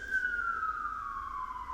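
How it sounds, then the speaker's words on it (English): A siren wails outside, one steady falling tone sliding slowly downward, moderately loud and alone with no talk over it. "It's just a siren."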